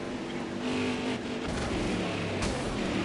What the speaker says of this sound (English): Oh, big wreck.